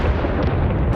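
A dense, roaring rumble of a British World War I artillery barrage, shells exploding continuously with no gaps, loud and low-heavy throughout.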